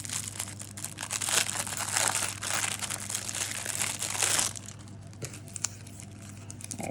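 Close, loud crinkling of a trading card booster pack's foil wrapper as it is torn open, a continuous crackling rustle that stops abruptly, followed by quieter handling.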